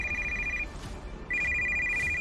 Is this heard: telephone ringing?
yes